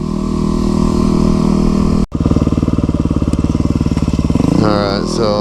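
Streetbike engine droning loudly while riding in Oregon, with a brief cut then a steady pulsing rumble, and a voice talking briefly near the end.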